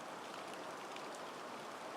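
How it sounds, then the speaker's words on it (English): Heavy rain from Hurricane Milton pouring down steadily in Florida, a dense, constant hiss of falling water with no voices. "The rain is coming down in sheets."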